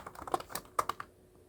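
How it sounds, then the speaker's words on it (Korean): A few sharp key presses on a computer keyboard while entering Hanja characters, five or six quick clicks clustered in about a second, close and clear, then quiet. "한자 키 누른 거죠. 키보드에서."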